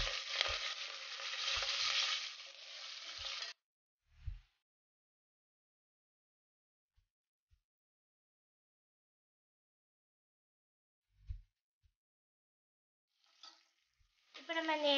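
Onion, green chillies and curry leaves fry in hot oil for a beetroot sambar, giving a steady hissing sizzle for several seconds before it cuts off, followed by near silence with only a few faint knocks.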